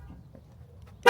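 2017 Ram truck gives a single short horn toot as remote start activates, a brief loud chirp at the end after near silence.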